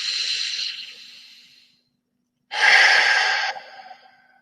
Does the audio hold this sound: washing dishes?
no